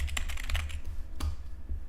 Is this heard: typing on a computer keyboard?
yes